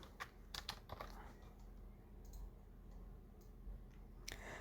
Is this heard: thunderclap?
no